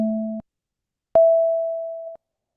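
Two synthetic tones built by summing two sine waves: a short steady beep, a pause, then a longer single steady tone, clean and loud against silence.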